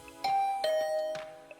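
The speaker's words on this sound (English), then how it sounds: "I rang her doorbell and waited for a bit" A doorbell in the video game Hundred Line Last Defense Academy rings with clear, tonal chimes: a few bright dings that ring on and blend over about a second and a half, heard alone.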